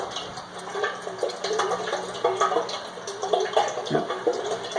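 Dirty engine oil drains from a car into a pan with a steady pouring, trickling flow, close by and moderately loud, with faint handling noises mixed in.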